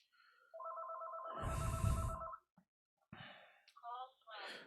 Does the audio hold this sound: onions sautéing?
no